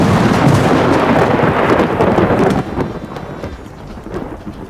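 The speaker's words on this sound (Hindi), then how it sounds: "काजी, लगता है बहुत जोरों से बारिश होने वाली।" Loud, deep thunder rolls continuously under a dense hiss of heavy rain, then eases and softens into quieter rumbling partway through.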